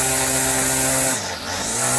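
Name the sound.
repaired free weed eater engine running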